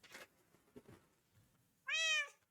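A cat in Minecraft Java Edition lets out a single clear, loud meow near the end, after a stretch of quiet faint game ambience.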